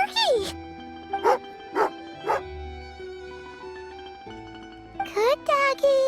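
Game dog character in Genshin Impact gives several short bright yips and barks, spaced apart and then in a closing cluster, over a soft ambient music bed; no chewing is evident.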